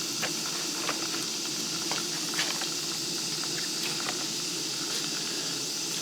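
Potato chips frying in hot oil in a big pot, a continuous loud bubbling hiss and sizzle with scattered pops and crackles, close and alone.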